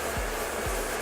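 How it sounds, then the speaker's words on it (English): A hair dryer fitted with a concentrator nozzle blows steadily while hair is brushed and styled, giving a loud, constant close-up whoosh that fills the whole short clip. "I like to use a concentrator on my dryer just to do exactly what it says, concentrate the heat"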